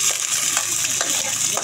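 Onions and leftover fish fry in hot oil in a pan, giving a loud, steady sizzle with light stirring scrapes throughout, no voices.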